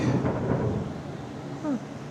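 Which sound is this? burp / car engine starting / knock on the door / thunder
thunder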